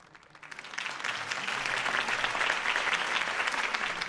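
A video game crowd's applause swells from quiet to a sustained, steady clapping that continues to the end.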